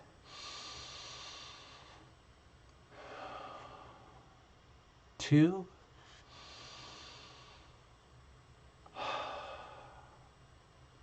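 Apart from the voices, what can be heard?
slow loose breathing during a counted breathing exercise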